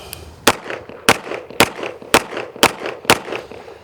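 Six sharp pistol shots from a CZ Shadow 2 during carry optics practice, evenly spaced about half a second apart, loud and close with short echoes between them.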